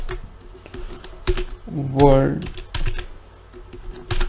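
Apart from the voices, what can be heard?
typing on a computer keyboard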